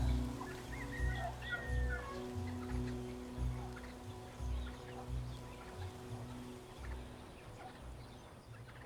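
Chickens on a poultry ranch cluck steadily over a dense, continuous flock din, many birds calling at once with no voices.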